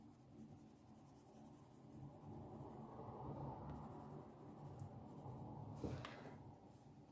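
A colouring pencil rubs back and forth on paper during adult colouring, a soft continuous scratchy shading sound, close and quiet, with a slight tap or shift near the end.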